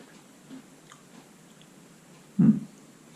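A single short bite and crunch of a blueberry and cream Japanese Poki snack, close and fairly loud, with quiet small mouth sounds around it and no talking.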